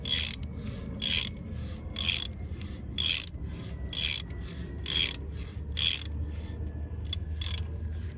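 A Gearwrench ratcheting tap handle cuts threads, giving eight evenly spaced bursts of gritty ratchet clicking, roughly once a second, close and fairly loud, with quieter scraping between strokes.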